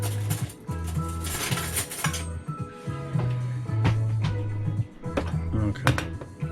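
A fork and cutlery clink and scrape against dishes and a pot while cooking Thai Chef artificial chicken flavour instant noodles, with irregular metallic taps and rattles up close over a low humming background.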